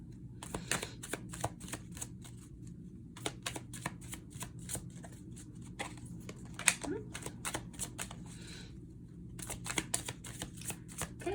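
Tarot cards being shuffled close by: a steady run of quick, crisp riffling clicks with short pauses between bursts, over a low background hum, with no speech.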